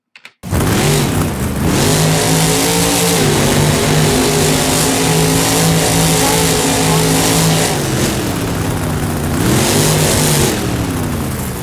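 A Monster Energy monster truck engine roars loudly and close for the whole stretch, its pitch rising and dipping through several revs and throttle swells with no talk.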